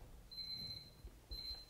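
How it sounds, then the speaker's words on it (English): A debate timer's electronic alarm goes off with two high, steady beeping bursts, the first longer and the second shorter, sounding in a quiet room with low background rumble. "I see we have a real timer when we do this. With sound."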